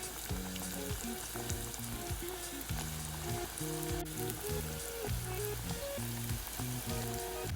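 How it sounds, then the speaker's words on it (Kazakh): Potato-filled pirozhki deep-frying in hot oil in a pot, a steady crackling sizzle throughout over a background music bed, with no talking. "Пирожкилердің барлығын қуырып аламыз."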